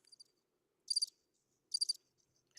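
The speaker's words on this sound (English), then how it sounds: "stop it with the crickets" Crickets chirping in short bright bursts, three distinct trills spaced about a second apart against otherwise near-silence.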